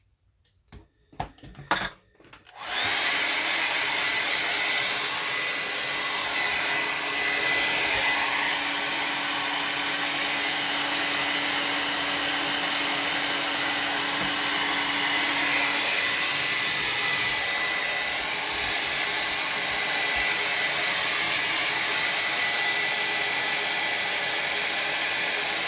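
A hair dryer blows steadily and loudly on a watercolor painting on tinted Bockingford paper, switching on after a few seconds of small clicks and handling noises and then running unbroken and close.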